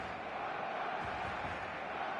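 A stadium crowd in the eFootball video game on match day: a steady, even roar of many fans at moderate distance, a broad wash of noise with little variation and no talk.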